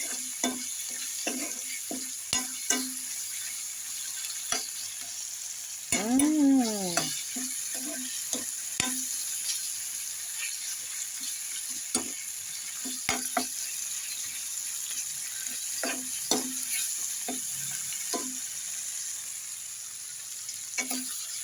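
Raw mango fries in a pan on low gas, giving a soft continuous sizzle punctuated by frequent scraping and clinking strokes of a spoon and one brief whining squeak.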